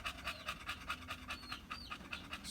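Several dogs pant steadily in hot weather, a quick rhythmic wheezing breath repeating close by, with no talking.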